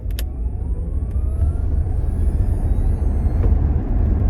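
A 2024 Tesla Model S Long Range accelerates quickly. A loud, steady low road and tire roar fills the cabin, with a faint rising electric motor whine over it and no talking.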